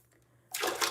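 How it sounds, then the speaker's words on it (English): Running water suddenly pours onto curly natural hair during a wash day, a steady close splashing rush starting after a quiet moment, no talk. "we're saturating the hair because our hair needs water"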